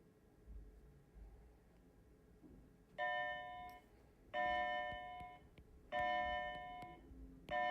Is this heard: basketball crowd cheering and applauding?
no